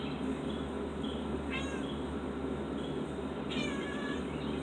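Cats meowing near a balcony, a few separate meows rising over a steady low background hum, one near the start and another louder one later.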